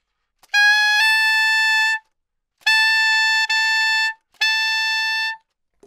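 A saxophone holds a bright, high altissimo F sharp three times, each about a second and a half long, with short silences between.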